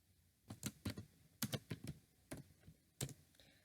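Quick bursts of computer keyboard typing as an IP address is entered, with about a dozen crisp key clicks grouped in short irregular runs over quiet background, no voices.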